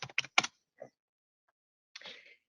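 Keystrokes on a computer keyboard while entering supplier invoices in accounting software: a quick burst of three or four close taps, one softer tap, then a brief rattling flurry of keys, near and clear with no talk.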